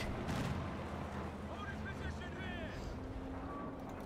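Anti-aircraft fire from an M16 half-track in the strategy game Company of Heroes 2, a dense rumble of rapid battle fire and booms running continuously beneath a commentator's voice.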